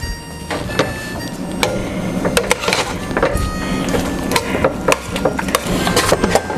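Noodles for a baked sausage ziti are stirred in a container, giving a series of close, irregular clacks and scrapes of a spoon in a steady rhythm with no talking.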